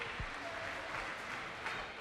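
Audience applause at a Ninja Warrior obstacle competition, a steady broadband clatter of clapping from a large crowd sustained through the whole moment without a break.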